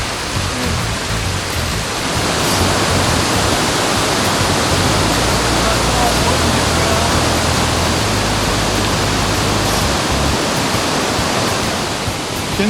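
Loud, steady rush of a mountain stream of meltwater near a hut below the Bossons Glacier in Chamonix, a dense continuous roar of flowing water close by with no pauses.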